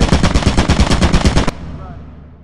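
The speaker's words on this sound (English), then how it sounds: "Why do I hear a turret?" An automated turret in the game Lethal Company fires a rapid, loud burst of about a dozen evenly spaced shots for a second and a half, then stops abruptly and leaves a fading echo.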